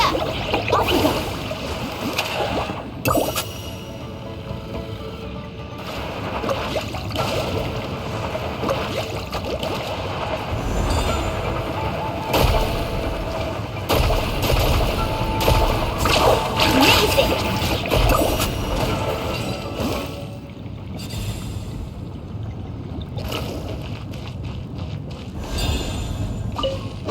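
Surfing through water in Genshin Impact, with continuous rushing splashes and spray that swell and dip over a long stretch, mixed with game music and effects.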